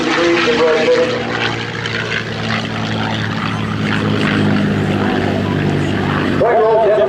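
A P-51C Mustang fighter rolls slowly overhead at an air show, its propeller engine droning steadily and loudly throughout, with a narrator talking over it.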